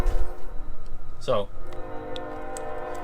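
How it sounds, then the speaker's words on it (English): Trains pass close by with a long, steady multi-tone horn blaring throughout, loud and sustained, while someone briefly speaks over it. "Sorry about the trains."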